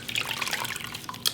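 Lukewarm water splashing and trickling from a tap while a face is rinsed at a sink, a steady close wash of liquid with small splashy bursts, no voices.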